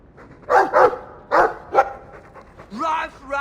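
A dog in a video game gives a few short barks and yips close by, spaced irregularly, with a brief whimpering tail. A voice speaks faintly in the background.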